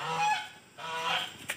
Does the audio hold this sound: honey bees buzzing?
no